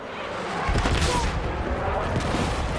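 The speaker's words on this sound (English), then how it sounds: "Who's shooting at me?" Battlefield 6 video game gunfire, with dense sustained bursts of shooting and rumbling impacts filling the mix, loud and continuous, with a voice mixed in underneath.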